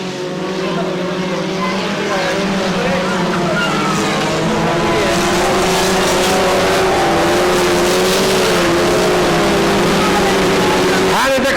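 Hot rod race cars roar around the track at the 1994 All Ireland Hot Rod Finals in Clonea, County Waterford, engines droning and whining loudly and continuously while a commentator talks over the race.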